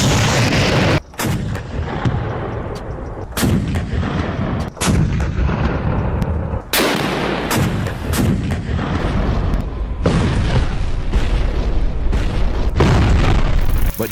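Heavy German WW2 flak anti-aircraft guns fire in a loud, relentless barrage: deep booming shots repeat every second or two, with crashing reports and rumbling echoes filling the gaps between blasts.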